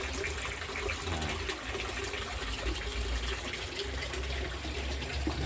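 Water runs steadily through an aquaponic system past chili, cucumber and Brazil spinach plants and back into the fish tank, a constant close rushing and trickling that never pauses.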